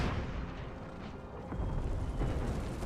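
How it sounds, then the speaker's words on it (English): Cannon fire from a battle in Empire: Total War, a dense rumbling barrage of booms and mechanical clatter that swells louder in the second half, with no talking. "A couple of guns are up and firing."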